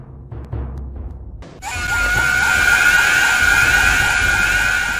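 A loud, sustained scream erupts abruptly after a quiet stretch, wailing on steadily behind the Mask Salesman's sudden appearance in a video game.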